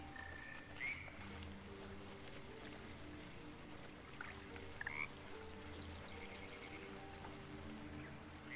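Frog croaking in a sunlit wetland in a fantasy role-playing game, a few short croaks rising over a steady, low ambient hum of water and background game sound, with no talking.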